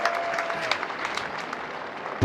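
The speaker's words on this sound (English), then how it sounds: "Crowd getting right involved here." A cricket crowd at a Kent Spitfires versus Hampshire Hawks match applauds steadily, the dense clapping rising and falling slightly and heard from a distance.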